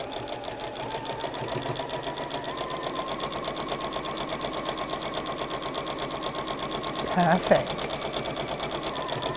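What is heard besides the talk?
sewing machine sewing quilt rows together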